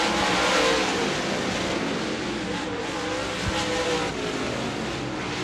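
Modified race cars roar around the Devils Bowl Speedway dirt track in a loud, continuous engine drone of several cars running together, steady and dense for the whole stretch, with no clear individual passes.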